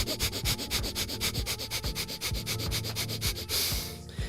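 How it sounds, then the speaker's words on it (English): Pranayama breathing with a balanced inhale and exhale, heard as a close, steady series of airy breath strokes in an even rhythm, each pass rushing softly in and out. The breaths stop near the end. "you have this linear breath, this balanced inhale,"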